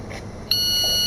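A shot timer gives one loud electronic start beep, a sustained high tone that cuts in sharply halfway through and holds steady to the end.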